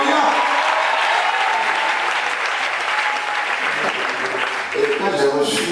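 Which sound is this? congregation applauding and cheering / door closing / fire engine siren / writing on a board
congregation applauding and cheering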